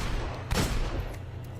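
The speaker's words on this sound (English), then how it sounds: "So I'm using the hand cannon." Hand cannon gunfire in the video game Destiny: one sharp, loud shot with a booming tail, followed by a couple of fainter cracks over a low ambient rumble.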